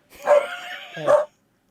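Two short barks from Mo, a dog, close by and fairly loud, one near the start and one about a second later, with a brief whine-like tail between them.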